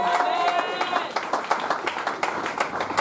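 A church congregation breaks into clapping and applause, a dense burst of hand claps that follows a voice and carries on steadily.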